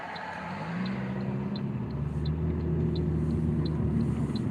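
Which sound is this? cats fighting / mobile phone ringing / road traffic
road traffic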